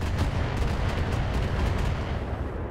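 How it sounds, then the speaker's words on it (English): A missile barrage slams into a Panther mech in the Battletech video game, a dense, continuous rumble of rapid explosions and booming impacts, loud and close throughout with no pause, heard alone without talk. "And a barrage piles into the Panther."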